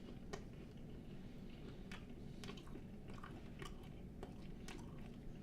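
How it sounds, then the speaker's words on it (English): Someone chews a dried serrano pepper, with a run of crisp, irregular crunching bites close to the mouth and a low background murmur. "It's just hard to chew."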